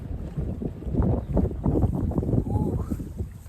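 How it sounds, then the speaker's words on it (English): Strong gusty wind buffets the microphone beside a lake, roaring in loud irregular bursts that swell and ease, with faint water movement beneath and no speech. "I know the winds are whooping and all"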